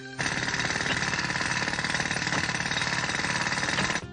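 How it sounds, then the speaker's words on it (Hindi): Construction-site jackhammer in a cartoon, a loud, dense rapid-fire pounding that runs continuously for about four seconds before cutting off abruptly, with no voices. "यहाँ पर तो कितनी जगह कंस्ट्रक्शन का काम चल रहा है।"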